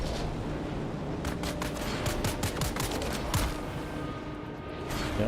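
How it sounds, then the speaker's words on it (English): Enemy gunfire in the desert survival game Dune: Awakening, a burst of rapid sharp shots in the middle of the stretch over a steady roar of game ambience. "Y'all keep shooting at me"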